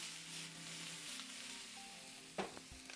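Vegetables sizzling in peanut oil in a pan, a quiet steady frying hiss under a low hum, with a sudden scrape or clatter of a utensil near the end.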